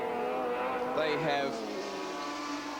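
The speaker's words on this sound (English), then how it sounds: "that little screaming, burbling, crackling Mazda behind them" A Mazda race car at Sandown in the 1983 Australian Touring Car Championship, its engine screaming and burbling somewhere behind the field, held under steady commentary.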